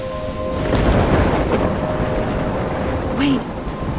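Thunderstorm in the video game Life Is Strange: a dense rumble of rain and wind swells and holds, with a rolling low thunder roar and a short whooshing gust near the end.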